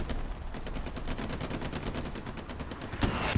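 Rapid repeated gunfire and booming shell impacts from the World War II shooter game Hell Let Loose, with artillery shelling at Sainte-Marie-du-Mont during an esports match, forming a steady dense barrage with a louder blast near the end.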